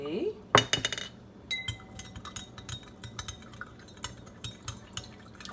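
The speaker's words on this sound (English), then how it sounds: "And we stir, and we stir, and we stir, and the sugar continues to dissolve." A spoon stirs sugar into a glass of tea, with a burst of sharp clinks early on and then steady, rhythmic tinkling of metal against glass, fairly close and clear.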